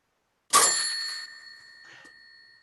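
A single bright bell struck once in a radio drama of It's a Wonderful Life, ringing clearly and decaying over about two seconds, with a faint second tap near the end.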